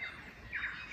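A tui calls in a Wellington sanctuary, giving two bright squawking, whistly bursts close by with no one talking over it.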